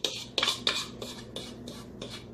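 Spoon scraping tuna casserole mix out of a mixing bowl, a series of about six short, bright scrapes and clinks in a quick uneven rhythm, close and moderately loud with no talk.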